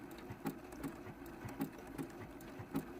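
A sewing machine runs a blanket stitch in maroon embroidery thread around a raw-edge appliqué heart on a quilt block, giving a quiet, steady mechanical whir with soft regular needle clicks about every half second.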